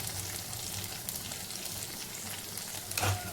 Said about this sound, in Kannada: ಇದೀಗ ಹಸಿ ವಾಸನೆ ಹೋಗುವವರೆಗೆ ಚೆನ್ನಾಗಿ ಈ ಮಸಾಲೆಯನ್ನು ಹುರಿಬೇಕು, ತುಪ್ಪದಲ್ಲೇ ಹುರಿಬೇಕು